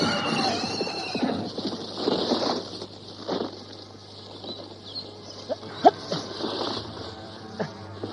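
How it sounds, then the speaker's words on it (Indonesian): A horse draws near with its rider, neighing and whinnying over steady hoof clops, the calls rising loud then fading into scattered sharper hoof hits against a low constant hum. "Seorang penunggang kuda sedang menuju kemari."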